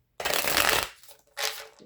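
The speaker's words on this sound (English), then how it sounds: "Let me make sure I shuffle it real good." A deck of playing cards riffled in two close, loud bursts, a long flurry of flapping followed by a shorter second shuffle, with no talk over it.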